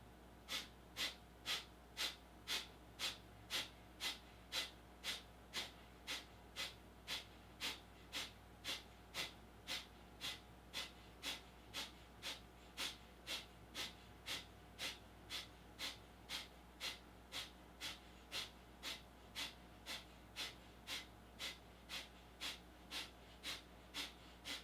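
Rapid, rhythmic yoga breathing during an energizing class: a long, even series of sharp, forceful breath pulses, roughly two per second, close and steady throughout.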